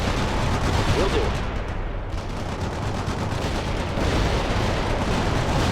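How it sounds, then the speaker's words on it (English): In the World in Conflict video game, a grenade launcher barrage fires on infantry as a dense, continuous roar of blasts and gunfire, loud and close throughout. "We've got a grenade launcher barrage that we can use with this infantry to take out enemy infantry squads."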